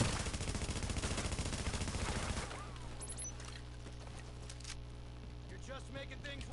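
Sustained rapid gunfire rattling against a turret in a PS4 Dark Zone shooter, loud dense bursts for the first couple of seconds, then dropping to scattered softer shots over a steady low hum and game ambience.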